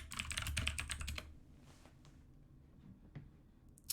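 Rapid clicking of computer keyboard keys in a quick burst lasts about a second, followed by a few scattered faint keystrokes in a quiet room.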